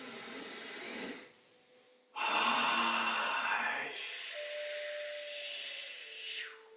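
A deep cleansing breath, drawn in audibly through the nose and mouth for about a second, a brief pause, then a long hissing exhale lasting several seconds, close to the microphone with no words.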